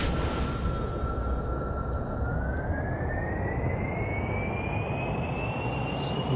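Rocket engine at full throttle in Kerbal Space Program, a loud continuous roaring rumble with a steadily rising whine over it, constant and unbroken throughout.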